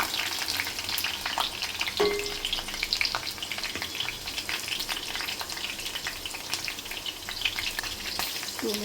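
Chopped green chillies hiss and crackle as they hit hot oil in a kadai, a dense, steady frying sizzle with a few sharper spits, close and fairly loud with no voices.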